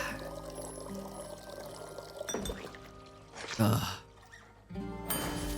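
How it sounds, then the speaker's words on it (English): A drink being poured in the cozy tavern game Tavern Talk: a liquid splash and trickle rises mid-clip over a steady bed of background music, with game sounds and voices around it. "Pouring out for the homies."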